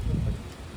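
Steady rain falling in Ooty, a continuous low wash of drops with a soft rumble underneath, fairly close and even throughout with no clear voices.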